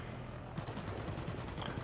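Bomber turret machine gun, 7.92 mm, firing in a flight combat game: a rapid, steady burst of shots starting partway through and running to the end over a constant engine drone.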